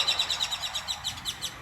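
A bird chirps in a steady series of short, high, evenly spaced tweets, about eight calls in quick rhythm, clear and fairly close.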